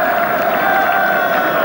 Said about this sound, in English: the Kiwi supporters applauding that kick